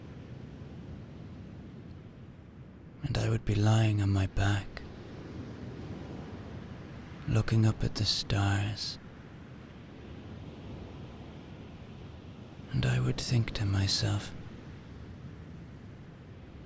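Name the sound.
ocean waves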